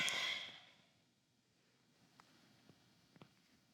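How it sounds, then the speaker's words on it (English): A single long exhale at the start, fading over about half a second during a Kundalini yoga pose, followed by a quiet room with a few faint soft knocks. "Exhale down."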